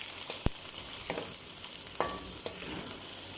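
Chopped onions sizzle in very hot oil in a pot for a village-style mutton pulao, with a continuous loud hiss broken by a few sharp pops and crackles.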